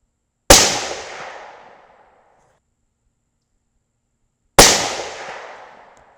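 Two sharp rifle shots from a T/C Compass in 6.5 Creedmoor, fired from bags at an outdoor range, each a loud crack with a trailing echo, spaced about four seconds apart.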